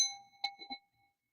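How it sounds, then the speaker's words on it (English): A meditation chime struck once, a bright ringing tone with a couple of quick follow-up strikes, decaying softly into near silence in a quiet room. "So listen to the chime."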